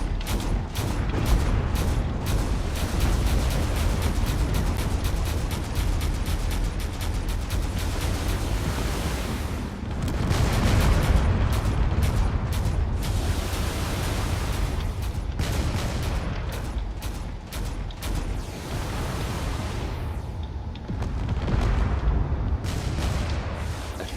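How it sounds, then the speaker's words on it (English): Torpedoes and heavy weapons fire at a fortress in the Drone Wars video game, a dense roar of overlapping booms and rumbling blasts that rolls on continuously, loud and close, with brief gaps. "firing as many torpedoes as it can to just finish off this fortress here"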